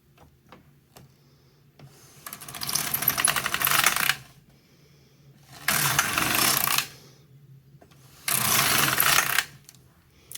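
A knitting machine carriage passes three times, knitting waste yarn into a swatch, each pass a loud rattling clatter of a second or two, separated by quiet gaps with faint clicks.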